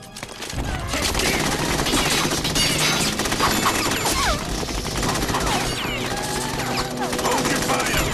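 Dense, loud automatic gunfire from the Metal Gear Solid 2: Sons of Liberty video game fills the whole stretch as sustained bursts mixed with crashes and impacts, with voices faintly under the barrage.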